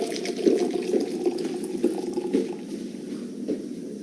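A cocktail shaken with lime garnish to follow is poured, liquid splashing and trickling steadily into a glass for a few seconds, fairly close and alone.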